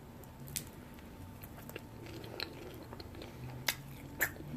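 Soft, moist chewing of an avocado egg roll filled with avocado and a binding sauce, with a few sparse, close bites and squishy mouth sounds over a quiet room, no crunch.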